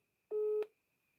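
A single short electronic phone tone sounds once on an unanswered call, a clean steady beep lasting about a third of a second before quiet.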